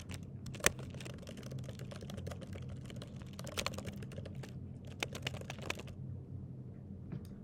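Close computer keyboard keys are tapped in quick irregular bursts, soft clicks over a low room hum, with the typing thinning out toward the end.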